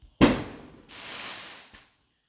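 Fireworks going off outside, a sharp distant bang followed by a crackling, hissing burst and a last small pop, heard alone without speech.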